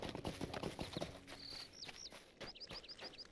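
Horse hooves clip-clopping at a walk in Lord of the Rings Online, an even run of close hoofbeats with birdsong chirping over them.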